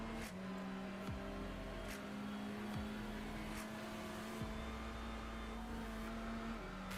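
A touring race car in a sim racing game at Barber Motorsports Park holds full throttle, giving a steady, loud engine drone with pitch that climbs and drops sharply at several quick gear shifts.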